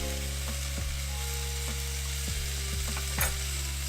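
Chopped vegetables sizzling in hot olive oil in a cast skillet on a barbecue, a steady frying hiss with a few scraping stirs and light clinks from a utensil, close and continuous with no talking.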